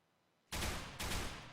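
Gunfire from a Counter-Strike pro match bursts in abruptly as a dense, loud volley that keeps going, with a second surge midway through.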